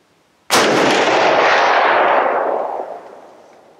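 A single loud rifle shot fired with a two-stage military trigger, sharp crack followed by a long rolling echo that fades over about three seconds, alone without talk.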